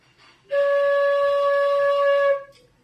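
A single flute note sounds steady and clear for nearly two seconds, tuned to C-sharp, soft breath noise around its start and end in a quiet room.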